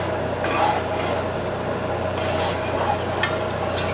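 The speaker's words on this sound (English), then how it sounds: "as your sauce starts to bubble, you have to keep stirring it" Sugar and evaporated milk rum sauce is stirred in a pan as it bubbles, giving a steady soft simmering sizzle with scraping spoon strokes. The sound is continuous and close, with no talking.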